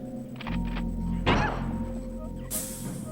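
A shotgun blast in the game Worms World Party: one sharp, loud burst of a shot around the middle, set against steady game background sound and other in-game effects, no speech.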